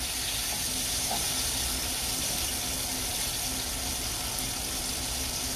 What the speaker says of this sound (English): Then I'm going to use some of the oil